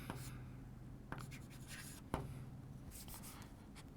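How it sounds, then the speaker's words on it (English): Pen or marker strokes scratch across a board or paper in short rubbing bursts, with a few sharp taps as it touches down, quiet and close, and no talking. "Let me write down the abbreviated term"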